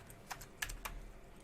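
A few quick taps on a computer keyboard while typing a date, light and close, spread over a second and a half in near silence.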